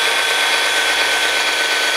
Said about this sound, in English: finished drilling holes